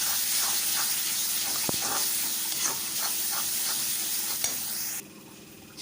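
Spices being stirred in a hot pan for a spicy chicken dish, a steady sizzling hiss with soft scraping strokes and a few sharp clinks of the spoon against the pan, close and continuous.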